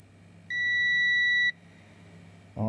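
An Aneng digital multimeter's auto-off timer sounds one steady, piercing electronic beep of about a second, loud and close. A brief clatter follows.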